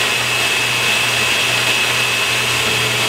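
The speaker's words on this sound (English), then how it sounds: "we're going to blend up all the herbs with the coconut milk" A blender runs at full speed, pureeing herbs with coconut milk, garlic and chili flake, a loud, steady motor whine holding constant with no pauses.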